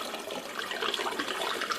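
Liquid pours steadily into a container for hopped cider, a continuous close splashing gush with no break and no talking.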